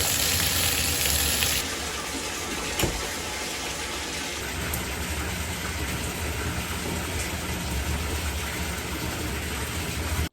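Shower water running steadily, a constant broad hiss of spray and splashing with no voices.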